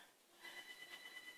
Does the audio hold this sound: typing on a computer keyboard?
no